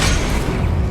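Incendio cast in a Harry Potter video game, a short, loud, booming burst with low rumble, filling the whole moment.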